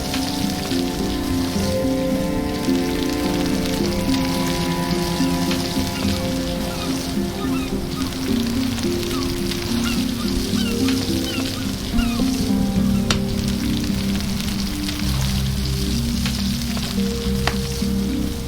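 Food sizzles and fries over a campfire in the survival video game Stranded Deep, a steady crackling hiss running throughout with a soft, rain-like patter and faint low tones underneath, no talk.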